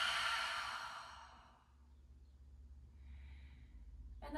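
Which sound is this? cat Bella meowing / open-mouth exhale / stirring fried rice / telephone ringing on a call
open-mouth exhale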